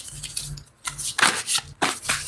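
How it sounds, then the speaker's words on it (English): Tarot cards being shuffled by hand, several quick riffling bursts close up with short pauses between them, no talking. "Y'all hear me shuffling the cards."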